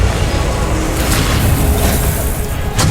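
A Confringo explosive spell blast in the video game Hogwarts Legacy, a loud, continuous booming roar of dense noise that lasts the whole stretch, with no voices.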